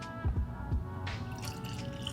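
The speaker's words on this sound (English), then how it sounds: "So let's get this one poured." Maker's Mark Cellar Aged bourbon, bottled at 115.7 proof, splashes into a glass in a few quick glugs near at hand, then a soft trickle fades into quiet.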